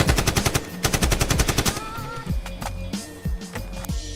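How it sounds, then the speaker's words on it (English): Rapid bursts of AK rifle gunfire rattle out in a dense, loud volley for the first second and a half, then give way to scattered sharper shots over a busy musical backdrop. "Let the AK off after we inhale and"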